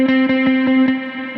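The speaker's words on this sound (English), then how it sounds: "he's got his delay going, and he's got reverb going, and it just creates this washy sound" Electric guitar holding a C note on the third string, fifth fret, alternate-picked in steady eighth notes through delay and reverb, giving a sustained washy tone with regular soft attacks.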